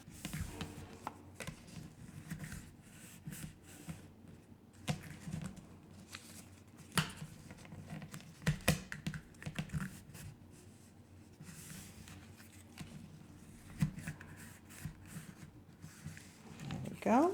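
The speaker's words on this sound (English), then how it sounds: "You want to burnish often to make sure that you have nice crisp lines" A tool rubs and presses along accordion folds in cardstock paper, making soft scraping strokes and light taps that repeat irregularly under steady talking.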